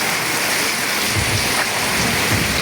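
Torrential monsoon storm rain drums loudly and continuously on surfaces, with low rumbling swells beneath the dense hiss, no one talking.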